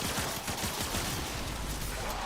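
Rapid gunfire from a full magazine emptied in the video game Warframe, a dense unbroken stream of shots with a steady rattling rhythm, loud and close, with no voice over it.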